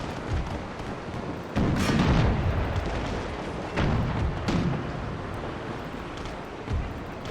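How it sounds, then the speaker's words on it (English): Warship cannons fire a broadside in the naval battle game Total War Empire, a string of heavy booms rolling out at uneven intervals over a constant battle rumble, with no talking. "Broadside, they are actually firing at us too."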